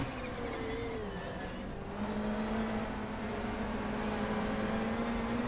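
A 1993 British Touring Car Championship racing car in the GTR 2 racing game at Silverstone National holds a steady loud engine drone that shifts pitch as it changes gear, continuous and close without any talk.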